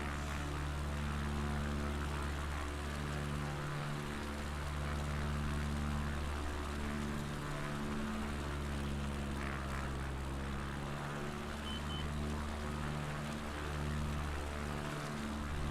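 A steady propeller aircraft engine drone from a bush plane over Patagonia in Microsoft Flight Simulator 2020, a constant low hum with a pulsing rhythm, continuous and even, with no talk.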